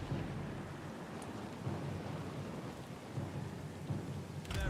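Rain pours steadily during a thunderstorm in the video game Pillars of Eternity II: Deadfire, with deep thunder rumbling underneath. The whole scene is faint and distant-sounding, and nobody speaks.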